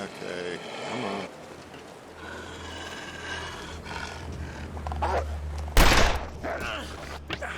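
A distress pistol is fired at a bear in the video game The Long Dark, a single loud, bright burst near the end after rumbling roars and wind, with a voice talking over parts of it.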